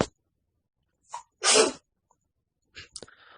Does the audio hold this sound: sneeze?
yes